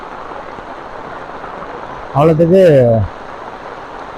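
Heavy rain pours down in Jaffna as a dense, steady hiss that fills the whole stretch without letup, while a voice speaks briefly over it midway.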